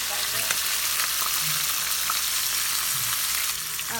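Marinated meat for Mexican street tacos sizzling steadily in a hot pan as it is stirred around, a loud continuous frying hiss with occasional scraping.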